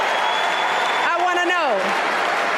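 A crowd applauds with steady, dense clapping throughout. A voice speaks over the clapping partway through.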